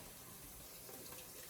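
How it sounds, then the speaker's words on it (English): Tomato sauce poured into a pot for making eech, a brief quiet steady pouring gush. "Now we're going to start by pouring in our tomato sauce"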